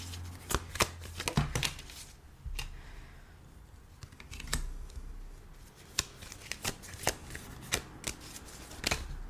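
Tarot cards are shuffled and handled close by in irregular runs of crisp riffling snaps and light taps, with quieter pauses between them and no voices over the sound.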